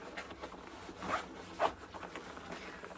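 A zipper on a Mia Tui Samantha handbag is pulled open in two quick, close rasping strokes, the second sharper and louder, against a quiet room.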